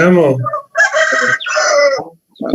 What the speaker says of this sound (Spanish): Ese gallo es un flojo, ¿cómo se está levantando recién ese gallo?